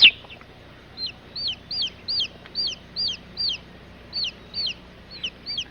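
A chicken clucks repeatedly in a steady series of short, high, bright calls, fairly clear over a soft background hiss, with no talking.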